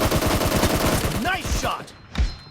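Rapid automatic gunfire in PUBG rattles in a fast, dense burst for over a second, followed by scattered single shots and a voice speaking between them.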